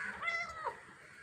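A cat meows once, a short, fairly close, moderately loud cry that rises and falls, with no talking over it; newborn kittens with eyes still closed are nearby.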